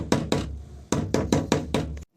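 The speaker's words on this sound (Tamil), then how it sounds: "அண்ணே எவ்வளவு தட்டுனாலும் திறக்கவே மாட்டாங்கண்ணே." Someone knocks on a locked train door, two sharp raps followed by a quick burst of five firm knocks, close and loud against a quiet background.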